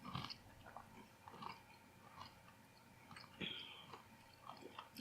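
Honey roasted chickpeas are chewed close to the mic, soft crunchy bites recurring in an uneven rhythm, quiet and with no talking.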